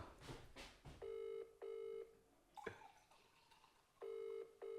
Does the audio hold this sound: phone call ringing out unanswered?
yes